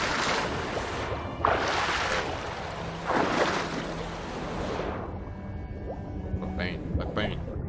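Game-world ocean in The Witcher 3: a large, deep body of water, with broad rushing waves and wind-driven surf washing in steady surges that swell and ebb, a louder crest around the middle before settling into a calmer wash.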